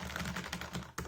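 Keys tapped on a Corsair K70 Low Profile keyboard with MX Speed switches, a quick run of light, close clicks and clacks with a sharper stroke near the end, no talking.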